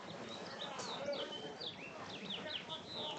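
Birds chirp busily at an outdoor baseball game, with repeated rising and falling calls overlapping in quick succession at moderate distance, mixed with background crowd murmur and some talk.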